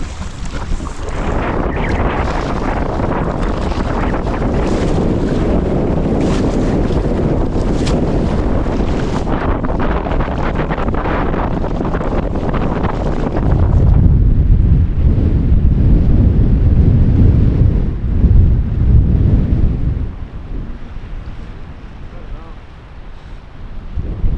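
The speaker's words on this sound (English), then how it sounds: "So it looks like the wind might have got the better of us." Strong wind gusts across a large northern lake in the Canadian wilderness during a paddling trip, roaring and buffeting the microphone in a dense rush that swells into a heavier low rumble before easing slightly.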